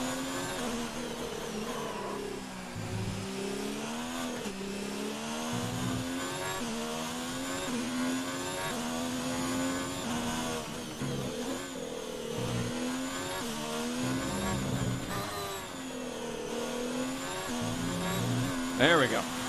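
A Ferrari Formula 1 car in the F1 2019 racing game revs hard, its engine note continuously rising and falling through gear changes, loud and close throughout, with a faint tire squeal mixed in.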